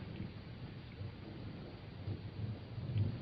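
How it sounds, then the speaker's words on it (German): Thunderstorm of a raging night, a low distant rumble of thunder rolling under soft steady rain, swelling near the end, faint and muffled overall. "während der Aufruhr der Natur außen mit Blitzen und Donnerschlägen tobte"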